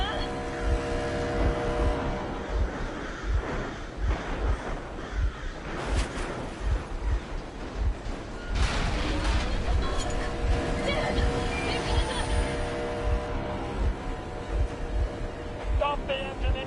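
A vehicle engine runs in the video game Metro Exodus, a rough, steady motor drone with rattling bumps throughout, while voices talk over it for much of the stretch.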